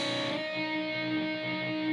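Electric guitar notes in a guitar lesson, with a finger sliding up to the 5th fret of the B string, ringing and sustained, clean and fairly quiet with no talking.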